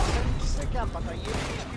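Gunfire in Red Dead Redemption 2 during a shootout with pursuing attackers, a burst of loud, dense shots blending into game noise with voices mixed in throughout.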